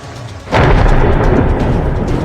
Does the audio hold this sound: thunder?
yes